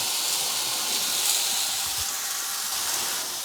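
Mushrooms hit a hot Ninja frying pan alongside bacon cooking for a full English breakfast, giving a steady, loud, bright sizzle that hisses evenly throughout with no talk.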